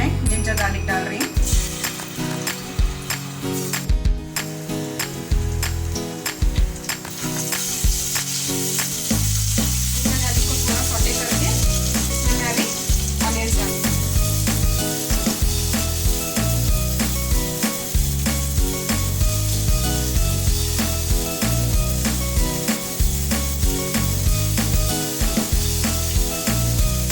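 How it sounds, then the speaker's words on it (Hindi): Ginger and garlic sizzling in two spoons of hot oil for stuffed karela, a loud, dense, continuous crackling fry heard up close, with occasional clinks of a stirring spoon against the pan. "दो चम्मच तेल लेंगे। इसमें सबसे पहले मैं जिंजर गार्लिक डाल रही हूँ।"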